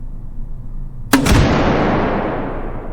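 A Russian ADS amphibious rifle fires one sharp, loud shot that cracks out suddenly and then rolls away in a long, fading reverberant tail.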